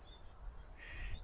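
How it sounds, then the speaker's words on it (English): Birds chirping outdoors near bare trees on a spring day, a couple of faint high twittering calls over soft background hiss. "Can you hear the birds?"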